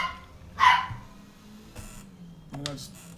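A dog barks once sharply near the start, followed by a couple of softer yips, while people talk over it during a rainy sim race session.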